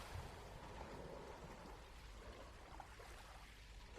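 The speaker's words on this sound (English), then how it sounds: "hearing that incredibly gentle lapping on the shore" Soft ocean waves lap gently at a shoreline, a faint, steady wash of surf with a low rumble and no distinct breaks.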